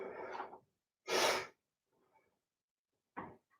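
During a yoga session, a sharp, deep inhale is drawn through the nose, close and clear. Softer breaths and a short exhale follow, with quiet gaps between them.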